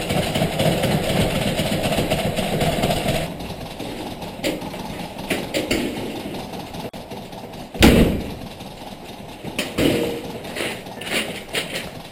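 On CCTV footage, a door is opened and then slammed shut, a sharp loud bang standing out against a steady engine-like hum and scattered knocks, with no voices.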